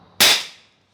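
A Huben GK1 PCP air pistol fires its last shot on an outdoor range aimed at a 30-yard target, one sharp, loud crack that decays quickly into silence.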